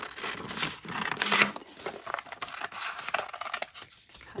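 Scissors cutting through folded paper for punched paper flowers, a run of uneven snips and crisp rustles at close range with no voices.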